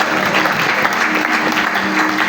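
A church congregation at a worship service claps in sustained, dense applause, loud and continuous throughout with faint voices mixed in.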